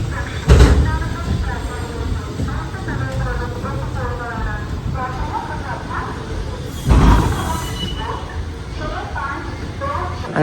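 Ananthapuri Superfast Express at Kollam Junction platform, a steady rumbling train and station ambience with two sharp clunks like doors or couplings, under continuous nearby talk.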